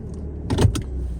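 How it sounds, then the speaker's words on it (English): Someone climbs into a car, with a short burst of rustling, thumps and clicks as they settle into the seat, close by over a low steady hum. "Let's get inside the car."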